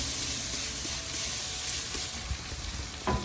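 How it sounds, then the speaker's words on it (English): Smoked spare ribs on an OCGF smoker sizzle and hiss under a spritz of apple cider vinegar and Worcestershire mixture, a steady close-up spray with a couple of brief louder bursts near the end. "Go ahead and spray it with a little bit of ACV. A little mixture ace, apple cider vinegar,"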